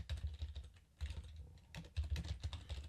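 Fingers type on a computer keyboard, a quiet, close run of rapid key clicks in short bursts with brief pauses between, no voice heard.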